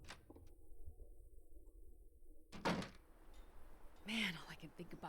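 In the video game The Long Dark, a door opens with a solid thunk, followed by a creaking swing and a second muffled knock, set against a low ambient hum with faint murmured speech.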